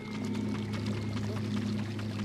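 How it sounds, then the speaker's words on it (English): A river in the Mortal Kombat Deception video game, a steady rushing wash of water with a constant low hum beneath it, continuous and fairly close throughout. "It's a river."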